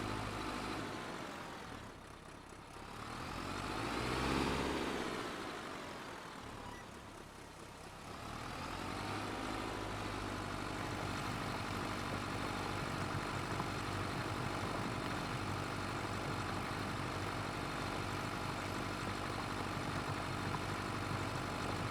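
A tractor engine in a farming video game hums steadily, with a brief dip and swell early on before settling into a constant, even drone with no talk.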